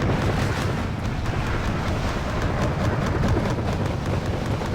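Bomb blast in Wargame: Red Dragon striking an infantry push of BTR-152s, a sustained, loud, rumbling roar with crackling debris and scattered bangs filling several seconds.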